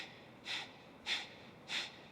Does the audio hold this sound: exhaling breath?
yes